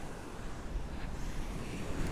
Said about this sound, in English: You can probably hear the waves crashing in the background